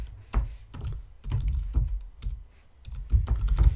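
Someone types code on a computer keyboard in quick, uneven bursts of close key clacks with short pauses between them, and no voices.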